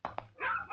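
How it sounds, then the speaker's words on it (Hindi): Stray dogs giving a couple of short yelps followed by a drawn-out whimpering whine, faint and brief, with no voices. "कुत्ते सर, कुत्ते, भांति भांति के आवारा कुत्ते"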